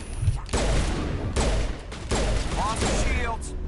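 Gunfire in the video game Mass Effect: Legendary Edition on PS5, loud bursts of rapid shots in several sustained volleys with short gaps between them, dense and close.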